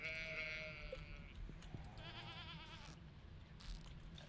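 A goat bleats in the farming video game Stardew Valley, a wavering, quavering cry heard near, over steady game background sound.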